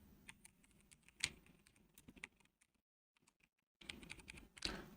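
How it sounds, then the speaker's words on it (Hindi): Rapid keystrokes on a computer keyboard, close and clear, in uneven bursts with a brief silent pause midway before the typing resumes. "मैं यहाँ पे टाइप करता हूँ"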